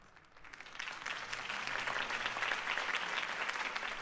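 A crowd breaks into applause after a campaign speech, clapping swelling from quiet to a steady, moderately distant roar that holds to the end.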